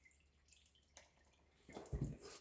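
Diesel dripping from the sump fitting of a Duramax LBZ engine: faint, scattered drips in a quiet space, followed by a louder splashing patter near the end.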